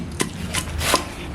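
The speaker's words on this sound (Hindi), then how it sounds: "अब हम लहसुन और अदरक को कूड़ी डंडे में डालकर पीस लेंगे" Garlic and ginger pounded in a mortar and pestle, three separate dull thuds spaced about a third of a second apart, close and fairly soft.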